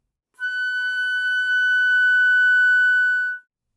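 A flute holds a single high F sharp in the third octave, one steady pure tone about three seconds long, close and alone with a soft onset and clean cutoff.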